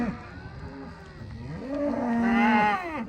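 Cattle mooing while being herded on a working cattle outing, a long, loud, low moo that rises and bends in pitch, followed by a second overlapping bellow, heard close with faint outdoor background.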